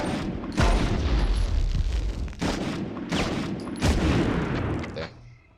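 Objects blowing up under gunfire in the Medal of Honor game, heavy booms and shot bursts stacked close together, loud and continuous, fading out at the end.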